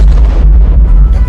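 A loud, heavy bomb explosion from the film Jingle All the Way: a deep booming blast with rumbling low end that stays dense and forceful through the whole moment, with no talk.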